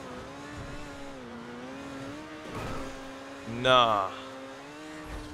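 Overflod Entity MT supercar in GTA 5 spinning its rear wheels, a steady engine drone that surges into a brief squealing burst near the end, with a short spoken word over it.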